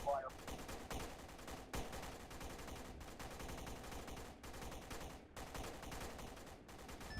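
Gunfire in the Arma 3 military video game rolls on in sustained bursts of rapid automatic shots, dense and continuous with only brief pauses, while faint voices talk underneath.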